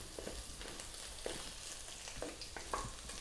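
Beef for fried rice sizzles in a pan with a steady frying hiss and occasional stirring clinks and scrapes, fairly quiet, with no talk.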